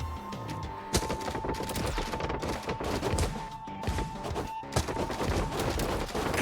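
The Gungunil weapon in the Honkai video game fires in dense, rapid volleys of sharp shots and thumps over busy battle noise, with a few heavier impacts.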